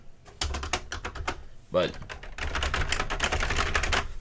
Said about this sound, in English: I don't know if the keyboard is mechanical or not. It doesn't feel mechanical.